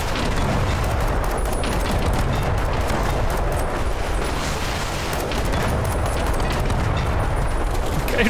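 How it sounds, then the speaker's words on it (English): Rapid, dense gunfire from shooting in the game Fallout: The Frontier crackles without pause, loud and continuous with overlapping bursts and booms. "Okay, I'm just gonna stand here and shoot."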